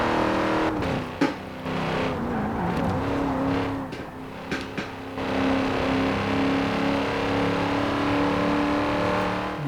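Racing game car engine under steady load, a continuous droning hum with a few brief sharp clicks and bursts, sustained throughout with no talk.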